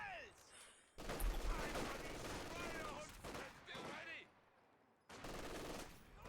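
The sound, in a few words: machine gun firing in a video game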